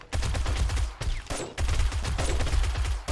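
Heavy, rapid gunfire during a blood moon horde in a survival video game: sustained automatic bursts broken by two brief pauses, loud and close.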